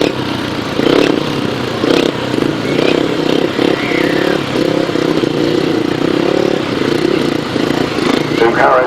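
Several 500cc sidecar racing outfits idle and rev as they line up on a speedway-style track, their engines forming a loud, steady mechanical drone. A commentator talks over them throughout.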